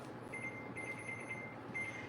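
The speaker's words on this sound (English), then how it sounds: "I'm gonna set my timer." A kitchen timer is set to about 20 minutes for beef enchiladas baking at 350, giving a few faint high beeps in short repeated bursts over a steady background hiss.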